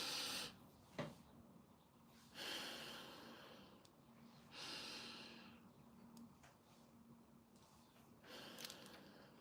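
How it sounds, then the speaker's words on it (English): Deep, slow breaths drawn in and let out in a steady rhythm, with long airy inhales and exhales repeating close to the microphone in a quiet room, with no talking. "Learn to do deep, slow breathing, especially when you're going through stress"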